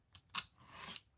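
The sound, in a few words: scissors trimming paper calendar craft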